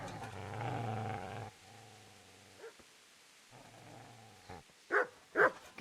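A dog growls low and continuously, then gives a few short, sharp barks near the end, close and fairly loud, from the video game Kingdom Come: Deliverance.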